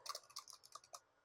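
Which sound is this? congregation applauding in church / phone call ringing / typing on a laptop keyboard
typing on a laptop keyboard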